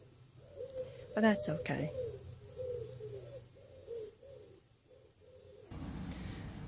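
Pigeon cooing in a quiet, peaceful garden, a run of soft repeated low woo calls spaced through the scene, with a brief nearby bird chirp and a short spoken phrase over it.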